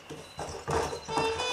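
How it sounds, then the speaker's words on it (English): Horse hooves clopping in Red Dead Redemption on PS3 as a rider travels on horseback, a few distinct, fairly loud hoofbeats in uneven rhythm over ambient game sound. "So, I'm out riding my horse."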